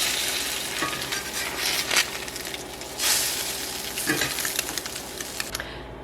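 Pancakes cooking in a cast iron pan give off a continuous loud sizzle, with a few brief scraping or stirring bursts along the way and no talking.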